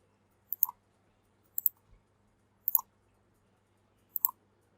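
Four sharp, quiet computer mouse clicks, some in quick doubles, spaced evenly apart against near silence while right-clicking in an Excel spreadsheet.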